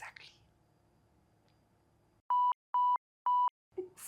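Three identical steady beeps of a censorship bleep sound in quick succession, loud and pure-toned, bracketed by quiet murmured talk before and a voice resuming after.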